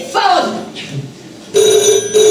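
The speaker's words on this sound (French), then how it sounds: "Oh, ce téléphone!" Telephone bell rings loudly in steady bursts, a sustained tonal ring breaking in after a woman's exclamations, with a brief pause between rings; voices talk over the start.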